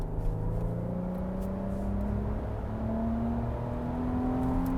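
Engine of a 2025 Infiniti QX80 full-size luxury SUV floored from inside the cabin, a steady low droning roar with slowly rising tones that climb gradually under continuous road noise, no speech.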